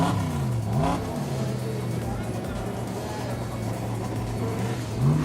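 Speedway race cars lining up for hot laps at Oceanview Speedway in Wanganui, New Zealand, engines idling and revving in a steady throbbing drone with a rising rev near the start, as a commentator talks over them.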